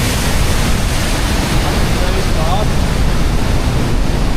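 Roaring Glenariff waterfall on the Antrim Coast, a dense, steady broadband rush of falling water and spray, loud and close throughout, with faint voices just audible beneath it.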